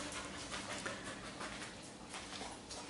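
Stray dogs pant close by in a steady, rapid, breathy rhythm over a constant background hiss, with no voices.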